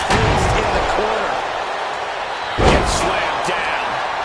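A wrestler is slammed down in WWE2K25 on PS5: a heavy thud lands on the mat amid loud arena crowd noise, followed by more impacts and a continuous roar with commentary talking over it.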